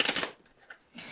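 Tarot cards being shuffled by hand, a quick burst of crisp riffling and slapping at the start, then quieter soft card sounds and handling noise trailing off.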